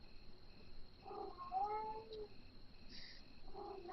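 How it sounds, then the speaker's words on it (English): A cat meows, one drawn-out rising and falling call followed by shorter faint mews, fairly close over quiet background noise. "There is something wrong with that cat, which is he wants to play, he wants to get attention and stuff."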